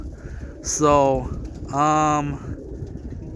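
Roller pigeons give two clear, close coos, one after the other, with a short word spoken just before them.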